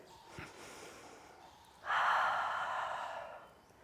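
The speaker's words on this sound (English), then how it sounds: "Take one more deep breath in." A single deep inhale during a yoga session, a broad breathy rush that swells suddenly and holds for about a second and a half before tapering, close and clear over quiet room tone with no talking.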